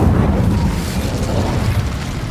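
A fire spell bursting into flame in Hogwarts Legacy, a loud, dense roaring whoosh of fire and rumbling blast that sustains steadily throughout without a clear decay.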